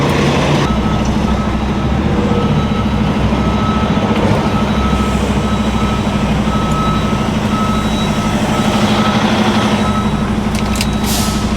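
A truck in a trucking video game backs up toward a tarping station with a loaded trailer of steel tubing, its reversing beeper repeating steadily over a loud, constant diesel engine drone.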